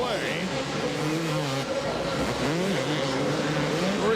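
Video game Supercross 2001 motorcycles race through the final lap, engines droning and rising steadily throughout with a commentator talking over them.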